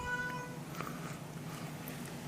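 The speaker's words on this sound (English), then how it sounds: "If you can hear the cat meow" A house cat lets out a faint, drawn-out meow indoors, a single thin plaintive cry against a low background hum.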